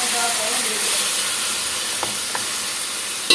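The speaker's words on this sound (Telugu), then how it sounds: "హై ఫ్లేమ్ మీదే ఉంచి మీరు బాగా దీన్ని టాస్ చేసుకోవాలన్నమాట." Chicken and masala for biryani being tossed in a pan over a high flame. A steady, loud sizzle and hiss runs throughout, with a few faint stirring scrapes and clinks and a brief knock at the end. No speech.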